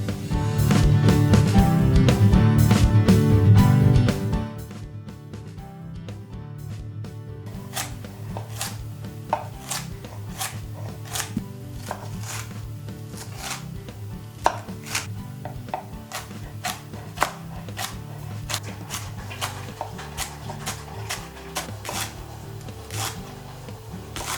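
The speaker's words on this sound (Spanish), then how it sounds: "Cortamos la parte verde de los puerros, la cebolla y una rama de apio en trozos grandes" Green leek tops, onion and a celery stalk chopped into large pieces on a cutting board: a steady run of crisp, close knife strikes after a few seconds of louder handling.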